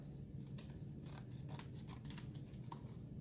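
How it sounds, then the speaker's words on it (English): Scissors snipping the white edge off a paper Minecraft creeper centerpiece, a steady run of close, crisp cuts with no talking. "let me cut a little of the white part off."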